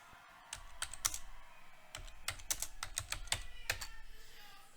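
Rapid clicking of keys on a computer keyboard as a networking command is typed, close and fairly quiet, in uneven bursts of taps with brief pauses and no talk.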